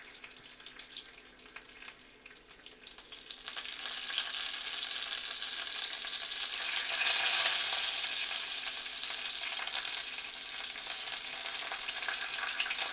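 Fresh garden sage leaves fry in hot oil in a pan, giving a steady hiss and crackle that swells louder after a few seconds and holds as a bright, continuous sizzle with no talking.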